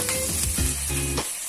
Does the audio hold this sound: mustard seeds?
yes